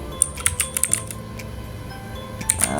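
Quick bursts of keystrokes on a computer keyboard, close and crisp, with clusters of clicks near the start and end and a brief pause between.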